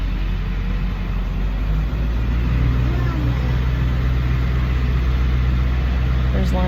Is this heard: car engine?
yes